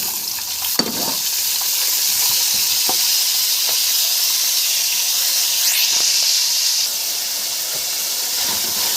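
Pieces of heart meat sizzle loudly in hot oil with frying garlic and black pepper, a continuous close hiss with occasional clinks and scrapes of stirring.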